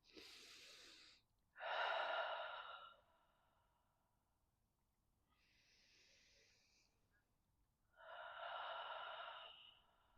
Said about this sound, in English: I take a couple of breaths.